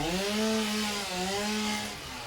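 A chainsaw in the video game Satisfactory cuts through mycelia trees, its engine droning loud and steady with slight wavering pitch as it bites in, then easing off near the end.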